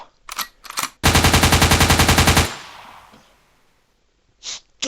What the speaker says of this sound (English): We're shooting down aerial bots.